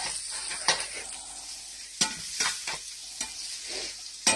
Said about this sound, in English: I'm gonna stir my onions up in the pan